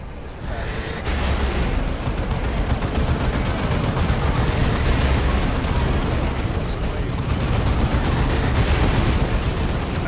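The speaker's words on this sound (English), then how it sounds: "I don't know why they all blew up, but I'm okay with it" Tanks blow up in Warhammer 40k Dawn of War II, a dense, sustained rumble of explosions and gunfire with sharp bursts layered over a constant battle roar, loud throughout.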